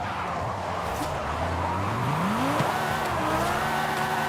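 A Mercedes-Benz drifting in the racing game Forza Horizon 5, its tires squealing steadily under a rising engine note as the car slides through a turn, loud and close with no talking.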